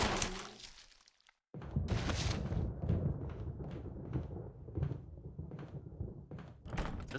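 Locked door rattling in Resident Evil, a series of short dull knocks and thunks repeating at a steady rhythm after a brief silence, close and moderately loud, with gunfire-like bursts mixed in.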